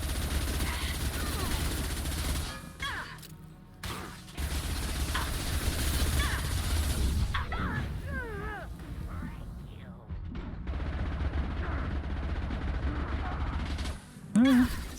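Weapon fire from a gun in the video game Mass Effect 2 during a boss fight, heard as clusters of mechanical, clattering shots over a steady low game background, with someone talking over parts of it.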